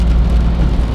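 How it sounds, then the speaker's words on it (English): Steady rain falls outdoors in Maple Ridge on a cold day of about 5 degrees Celsius, forming an even, dense patter with no talk, heard in a brief unbroken stretch. "It's raining like crazy. Actually, not like crazy, it's just raining."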